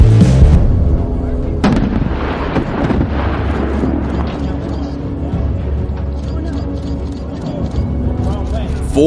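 A power plant demolition blast in Ohio that fell the wrong way, a loud deep rumbling explosion with sustained low roar and crackle, a voice talking over it.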